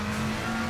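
A McLaren race car on the Kyalami circuit in a VR racing game, worn car, produces a sustained engine drone with a steady pitch that dominates a very brief moment with no talk.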